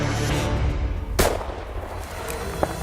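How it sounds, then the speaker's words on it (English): One sharp, loud rifle shot fired at a moose on a hunt, cracking out over a steady outdoor wind rumble and fading quickly. "The time to shoot is now."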